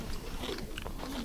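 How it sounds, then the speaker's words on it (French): A crispy tuile biscuit, served with a meringue dessert, is bitten and crunched in a couple of quick, close, crackly snaps. "La tuile m'a l'air bien croustillante, elle l'est."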